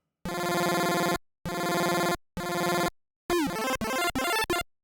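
Game Boy chiptune programmed in LSDJ: three sustained buzzy square-wave notes separated by gaps, then a quick stuttering phrase jumping up an octave and back in rapid triplet steps, bright and synthetic with no voice.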